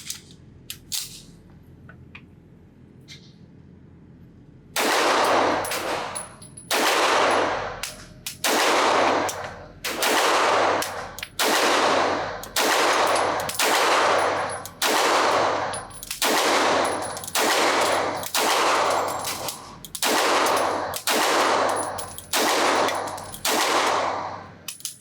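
Gunshots from a Nighthawk Custom Fire Hawk 1911 pistol at a shooting range, after a quiet start: loud, sharp reports fire one after another in a steady rhythm for about twenty seconds, close and with no talk.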